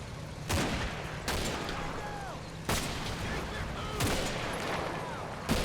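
Sharp gunshots ring out in the Normandy wartime setting of Combat Mission: Battle for Normandy, four or five loud reports spaced a second or so apart over a steady battlefield rumble, with a voice speaking in between.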